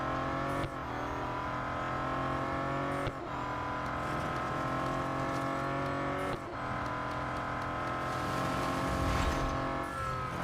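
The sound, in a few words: Bentley Continental GT Speed racing car engine in Real Racing 3 video game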